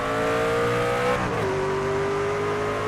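Race car engine in the NASCAR 25 video game, a steady droning hum with a slight pitch shift partway through, moderately loud and continuous without talk.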